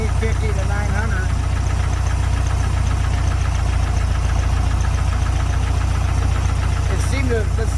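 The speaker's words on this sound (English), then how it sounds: "the bypass screw, just letting, trying to get it to idle down some where they recommend it" A 1974 VW Beetle air-cooled engine idling after a carburetor install, a steady loud low chugging with even rhythm throughout, a voice talking faintly over it.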